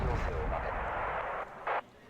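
Heavy artillery fire support in a military strategy video game, a sustained booming rumble followed by one sharp, loud report near the end.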